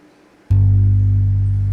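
A sustained synth bass G note from Ableton sounds alone after a short silence, loud and steady, holding without decay to the end.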